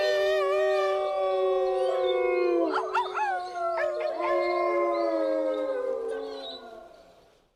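A long, loud werewolf howl sound effect rises and wavers in a drawn-out tonal wail with harmonic overtones, then slowly fades away; no talking.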